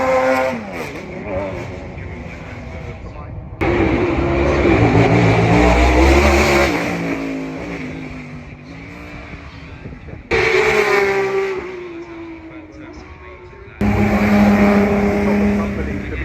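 Race car engines at the Goodwood Festival of Speed rev and roar in loud bursts, with rising and falling pitch as cars pull away and pass close by, while people talk underneath.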